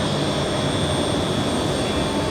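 Russian Ilyushin Il-96 jet taxiing after landing, its engines giving a steady, loud roar with a sustained high whine, continuous and unbroken with no voices.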